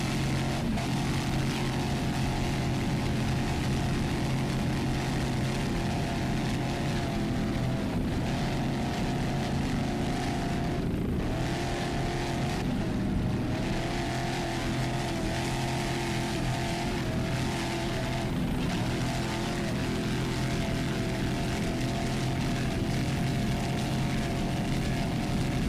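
Chevy-powered racing boat engines, including a 30-foot Phantom, roar continuously at a race, a loud sustained drone with a steady throbbing undertone that rises and dips slightly over the long stretch, with no talk.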